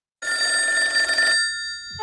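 A telephone bell rings in one sustained, steady burst played from a phone call recording, then cuts off abruptly, loud and alone.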